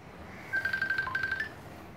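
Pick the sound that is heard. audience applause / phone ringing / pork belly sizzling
phone ringing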